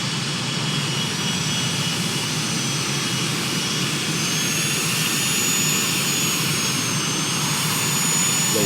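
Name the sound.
aircraft jet engines running in a flight simulator game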